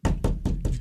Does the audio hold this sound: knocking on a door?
yes